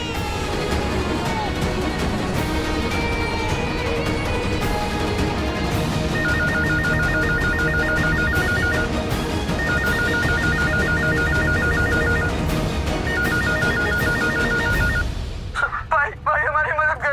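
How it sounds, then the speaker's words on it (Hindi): A telephone rings in repeated short bursts, a regular electronic trill coming back three times over busy, steady background music and voices in a Hindi TV drama scene, then cutting off abruptly near the end. "मैं सूरज को ऑफिस में फोन करता हूँ।"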